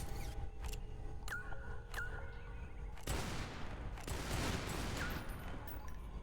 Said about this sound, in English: Had to try to shoot it just a couple times, make sure, you know